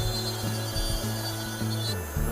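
A hand instrument scrapes and trims a gypsum dental die in steady back-and-forth strokes, close up and fairly loud, with a rough, rasping texture and brief pauses between strokes.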